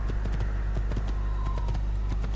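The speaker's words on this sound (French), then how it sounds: "Bon, le galop est pas trop mal." A horse gallops in the Assassin's Creed video game, its hooves clip-clopping in a quick, even rhythm over a steady low background hum, close and fairly loud with no talking.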